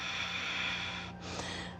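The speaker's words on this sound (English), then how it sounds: "Breathe in" A soft, close inhale taken during an all-levels vinyasa yoga flow: a steady airy hiss that swells briefly near the end, over a faint constant hum.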